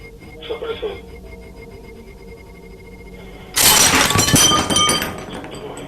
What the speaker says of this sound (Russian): ты разбил стакан?